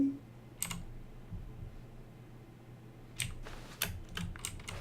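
Keyboard typing in the narrative video game The Stanley Parable: a lone burst of keystrokes, a pause, then a quick run of crisp, close key clicks over quiet room tone.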